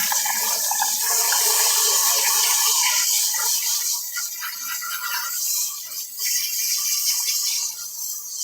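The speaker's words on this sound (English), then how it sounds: "I'm going to rinse all of her off" Running water streams steadily over a dog as it is rinsed off, with a bright splashing hiss that dips and shifts as the flow moves across her coat. No one speaks.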